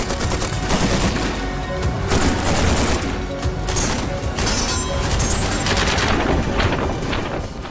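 Rapid rifle fire from a next-generation squad weapon, loud bursts of gunshots in quick succession, dense and continuous, close and booming with no voices.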